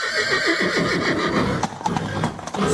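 A white steed neighs loudly in a Chuvash folk tale, its whinny rising over rapid clip-clopping hooves, followed by snorts and a few sharp hoof strikes, close and alone without speech.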